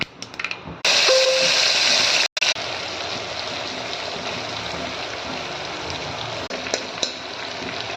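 Hot oil sizzles loudly and steadily as masala-stuffed brinjal and potatoes fry in a pan, a dense close-up crackle with a brief cut partway through, and no voices.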